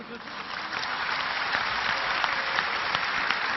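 A lecture audience applauds steadily, a dense wash of many hands clapping for a few seconds, fairly loud and uninterrupted.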